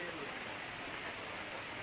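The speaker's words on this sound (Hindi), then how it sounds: "तो आसमान से गिरती ओलों के रूप में ये बारिश इन लोगों को जरा भी टस से मस" Hail and rain pouring steadily on a crowd standing in a queue outdoors in Uttarakhand, a constant dense wash of noise with faint voices beneath.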